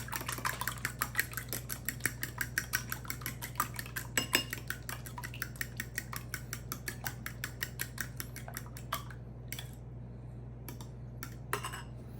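A utensil clinks rapidly against a bowl while brown sugar and cinnamon are mixed for French toast, a steady run of close, bright taps that thins out and turns sparse near the end.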